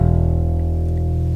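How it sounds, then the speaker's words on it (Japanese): A bass guitar rings its open low E string, a single deep, steady sustained note with a slightly pulsing attack, heard alone and fairly clear. "一番低い E の開放弦ですね。"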